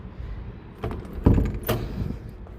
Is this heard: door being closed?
yes